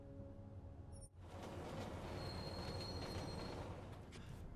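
Metro train ride in the video game Deus Ex: Mankind Divided: a steady, loud rumble of rolling carriages with faint squealing wheels, broken by a brief dip just after the start, then continuing evenly without talk.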